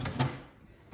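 A wooden drawer of a magnificent Orientalist antique cabinet is slid shut with a short, close scraping knock, followed by quiet room tone.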